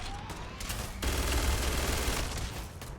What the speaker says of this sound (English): Keep shooting it.